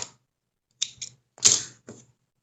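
Fabric being folded and creased by hand to form a hem for an ecobag, heard as a few short, close, dry rustling bursts separated by silence.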